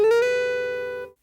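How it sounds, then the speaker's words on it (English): A single guitar note slides from the third fret up to the seventh, the pitch climbing quickly at the start and then ringing steadily before cutting off after about a second. "sliding from fret 3 up to fret 7, like this"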